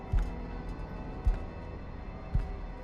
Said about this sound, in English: I hear the footsteps